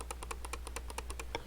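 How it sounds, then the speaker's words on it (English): Computer mouse clicking at a desk beside a Sega Dreamcast setup: a quick, uneven run of about a dozen crisp, close clicks with no talking. "You can even hear my mouse clicking just to prove it's real."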